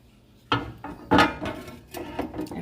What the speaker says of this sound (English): I'm going to go ahead and put the grill grate in so that it gets nice and hot